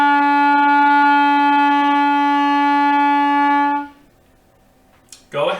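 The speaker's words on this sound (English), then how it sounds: "The E note should sound like this." Clarinet played by a beginning band student sustaining a single steady E note for nearly four seconds, clear and loud, then stopping; a voice starts speaking just at the end.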